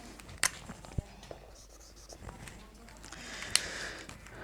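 Chalk writes a proof on a board during a topology lecture, with short scratchy strokes and taps at irregular intervals, fairly faint, while a voice speaks quietly underneath.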